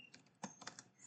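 Keys clatter on a computer keyboard in quick, uneven bursts of taps with a few louder strikes, close and quiet, with no voices.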